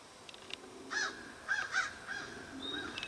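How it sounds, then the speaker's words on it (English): Several crows caw outdoors near a house, harsh calls in short bursts with a faint high chirp toward the end, moderately close with no talking. "you can see all these fucking birds in here"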